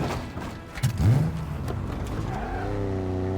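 Rocket Warthog engine in Halo Infinite, with a few thuds followed by a loud, steady motor hum that rises into a sustained revving drone close up.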